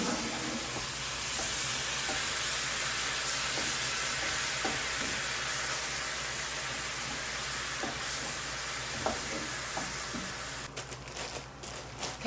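Meat browning in a pan with all-purpose soy sauce gives a steady, loud sizzle and hiss throughout, with a few soft stirring knocks and scrapes and no talk.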